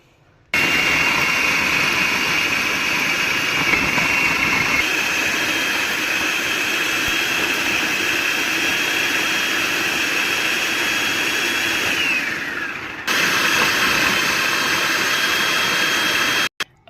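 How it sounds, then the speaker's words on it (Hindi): An electric kitchen chopper runs continuously with a loud, steady motor whine while minced onion, ginger, garlic, green chili and bread are chopped, stopping briefly near the end before starting again; no one speaks. "अगर आपके पास चॉपर नहीं है तो चलें जी मैं इसको अब चॉपराइज करूँगी"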